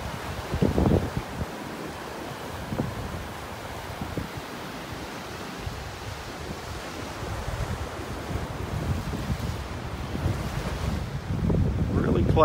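Wind on a Florida beach in North Naples buffets the microphone in a constant, loud rumbling roar, with gusts swelling and fading over distant surf and no one speaking.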